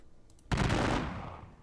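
Musket gunfire in a Napoleonic wargame video game depicting the Battle of Dennewitz: a sudden loud crackling volley after a moment of quiet, then a rolling rumble that slowly fades.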